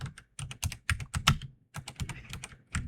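Keystrokes clatter across a PC computer keyboard in quick irregular bursts with short pauses, close and clear with no talking.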